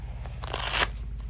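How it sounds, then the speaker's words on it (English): A short ripping rasp of Velcro being pulled open on a Rynox Stealth Evo motorcycle jacket, close and building to a louder tear before stopping abruptly, with no talking. "as we open these, there's a small Velcro here"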